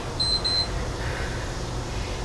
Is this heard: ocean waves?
no